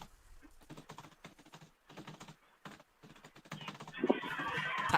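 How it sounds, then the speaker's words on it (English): Someone typing on a computer keyboard, quick rhythmic bursts of clicking taps separated by short pauses, close and clear, with a rising wash of hiss joining in toward the end. "Cibby is typing."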